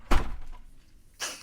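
A door swings shut with a sharp thump close by, followed about a second later by a softer second knock or latch sound; no voices over it.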